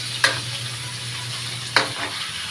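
Food sizzling steadily in a hot frying pan, with two distinct scraping stirs of a utensil against the pan breaking through the continuous crackle.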